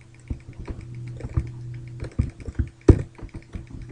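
Keys on a computer keyboard tapped in a quick, irregular patter of light clicks while an Excel spreadsheet is set up, with a couple of firmer, louder strokes near the end, close and alone.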